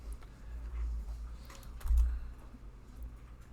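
Keyboard typing on a computer, soft quick clicks of keys close by, faint and alone with a low hum beneath.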